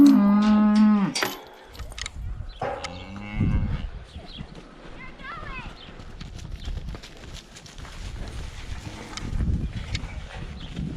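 Cattle on a ranch are let out to pasture, with cows and calves giving loud, close moos in a few separate calls, followed by hoof clatter and rustling as the herd moves onto the grass.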